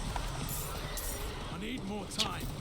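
A horse mount gallops in Diablo IV with faint rhythmic hoofbeats under game sound effects while someone talks over them.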